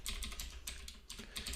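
Code typed on a computer keyboard: quick, close, clicky keystrokes in short uneven bursts with brief pauses, quiet and alone.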